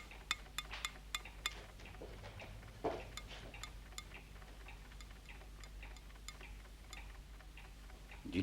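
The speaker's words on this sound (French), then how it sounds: "je crois avoir entendu battre votre pendule universelle" A universal pendulum clock ticks steadily, a run of sharp regular beats that is crisp at first and then softer, in a quiet room with faint low hum.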